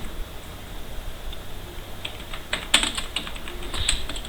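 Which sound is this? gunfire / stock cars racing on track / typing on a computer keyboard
typing on a computer keyboard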